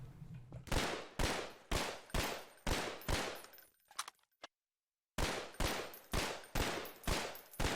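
Rapid bursts of gunfire from a gun in the video game Half-Life 2, about ten evenly spaced loud shots, then a few scattered clicks and a second of silence before the steady firing resumes.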